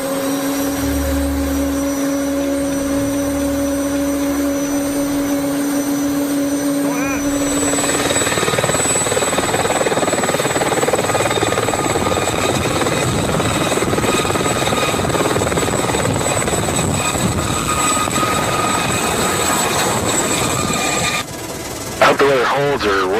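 A helicopter spools up for takeoff with a steady rising whine and rotor roar that becomes a loud, continuous drone as it lifts and hovers in the Rocky Mountains, with faint radio-like tones in the mix.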